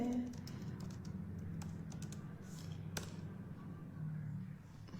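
Fingers tap a WhatsApp message on a phone or keyboard, producing a quick, irregular run of light clicks and taps over a steady low indoor hum, with one sharper tap standing out midway.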